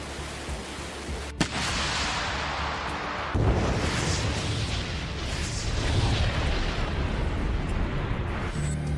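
Artillery fire from the Russian army's Vostok group in Zaporizhzhia, heard as a sharp crack followed by a heavy, sustained rumbling roar that swells and lingers like distant shelling, loud and broad with no voices.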